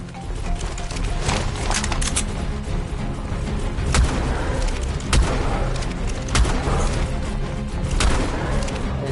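Video game firearm shots in ARK Survival Evolved, a rifle firing fewer rounds than an assault rifle, ring out as sharp, irregularly spaced bangs over a loud, steady background of game noise and rumble.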